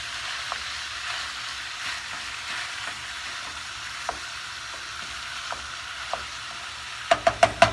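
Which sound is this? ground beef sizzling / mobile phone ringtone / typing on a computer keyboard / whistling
ground beef sizzling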